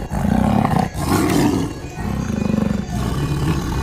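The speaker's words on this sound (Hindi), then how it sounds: "ये देखो यहाँ पे 2 शेर हैं, 2 बाघ हैं" Lions and tigers at a zoo give repeated deep, loud roars in about four long bursts, each lasting close to a second and separated by short pauses, with no talk over them.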